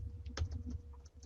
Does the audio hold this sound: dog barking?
no